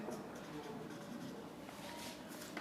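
Writing on a board or paper during an accounting lesson, a soft, continuous scratching and rubbing stroke that is faint and close.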